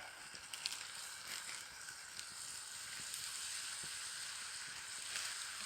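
New York strip steaks and mushrooms frying in butter with salt and pepper over a camp stove in autumn woods, a steady close sizzle with scattered small pops and crackles, no talking.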